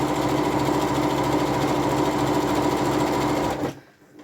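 A home sewing machine runs steadily and close while stitching dungaree fabric, backstitching to lock the seam ends, a continuous motor whir that stops abruptly near the end.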